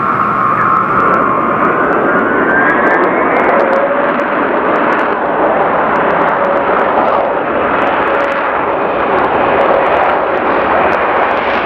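An Ilyushin Il-76 four-engine turbofan strategic airlifter, a loud steady jet roar with a broad rushing wash and faint whining tones that sweep slightly in pitch, continuous throughout without any voices.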